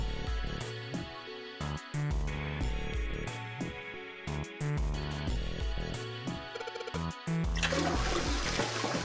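A toilet in a shower room flushes in the video game 999: Nine Hours, Nine Persons, Nine Doors, with a steady rush of water building to a louder gurgling swirl at the end, close and without talk.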